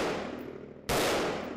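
Two sharp, loud gunshot blasts, the second one sudden and full with a long ringing tail, heard alone without voices.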